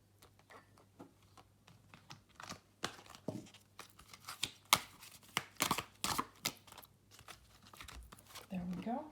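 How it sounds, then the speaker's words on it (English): Tarot cards are shuffled and pulled from a deck, giving quick papery flicks, riffles and slaps in an irregular run that grows busier and louder, close-up, with soft talking at the very end. "Let's pull a couple of cards."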